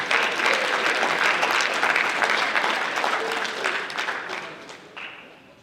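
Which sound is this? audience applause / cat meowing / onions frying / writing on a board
audience applause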